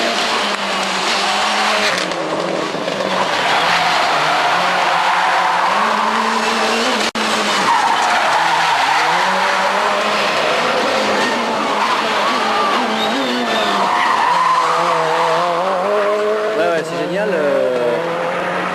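A four-wheel-drive Citroën rally car at the Rallye Mont Blanc, its engine roaring loud and constant with tires skidding and squealing across the stage, a commentator's voice talking over the noise throughout.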